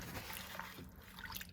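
Water soaking into a napkin or paper towel: a brief soft trickle and faint wet dribble, quiet and close, with no talking.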